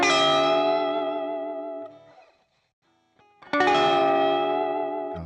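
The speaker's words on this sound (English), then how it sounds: "You can create little sound effects too with the Bigsby." An electric guitar with a Bigsby vibrato rings out sustained chords that waver and bend down and back up in a sliding, pedal-steel-like sweep, then falls quiet before another strummed chord rings out loud and close.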